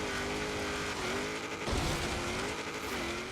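A rear-engine Renault Alpine GTA races through a rallycross course in Forza Horizon 3, its engine droning steadily with shifting pitch and a burst of tire and suspension noise midway, played quietly and continuously.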